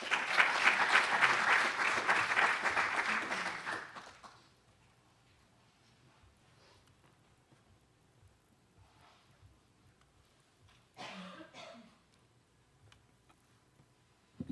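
Audience applause welcoming the first speaker at a marketing theory talk, loud and steady for about four seconds before fading into a quiet room with faint rustles and a brief later shuffle.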